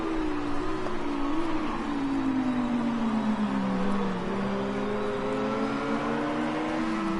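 Audi and Porsche GT race cars battle closely at Silverstone in a British GT race, their engines droning loud and near with pitch sweeping down and up as they lift and accelerate through the corners.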